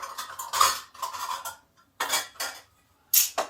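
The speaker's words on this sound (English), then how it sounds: "I'm just going to mix it in my bowl." A spoon scrapes and clanks around a bowl as ingredients are mixed by hand, in several short bursts of clinking and scraping separated by brief silences, close and fairly loud.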